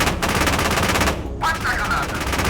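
Gunfire from a BMP armored vehicle in the PC tank game Gunner HEAT, a dense run of rapid automatic shots crackling continuously over a rumbling battlefield, with a brief dip before the firing resumes.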